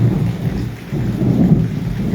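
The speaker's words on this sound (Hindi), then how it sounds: "बादलों की कड़कड़ाहट से" Low, rolling thunder rumbles steadily through heavy rain and strong wind during a night storm over wheat fields, with a brief dip midway before the roar builds again, loud and close.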